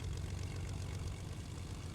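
Steady low propeller drone of a Fortnite airplane engine, a continuous moderate hum with no voices over it.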